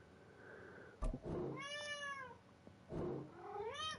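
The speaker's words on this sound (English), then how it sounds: "This cat is driving me nuts." A house cat meows twice, long rising-and-falling wails with clear harmonic tone, each preceded by a short sharp knock; nearby, loud and alone with no talk.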